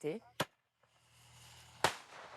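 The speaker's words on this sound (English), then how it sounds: "This villager, who isn't part of the NGO, is using fireworks to fend it off." A villager sets off fireworks to scare off an animal, sharp cracking bangs, one early and a louder one near the end, heard close by with brief speech at the start.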